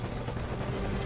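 Helicopter in Metal Gear Solid V Ground Zeroes, a brief, continuous rotor chop and engine drone that is steady and close, with no voices over it.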